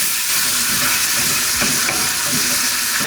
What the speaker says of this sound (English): As it's finishing browning, you'll see it's gotten pretty fatty.